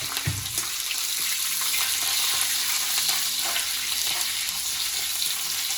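Cinnamon, fennel, bay leaf, green chili and curry leaves sautéing in hot oil for a crab gravy, a steady close sizzle and crackle with an occasional stir, continuous throughout.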